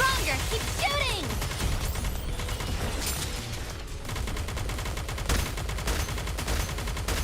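Dense, continuous gunfire from a Fire Emblem Heroes battle, rapid overlapping shots and crashes filling the whole stretch at high volume, with game effects layered on top.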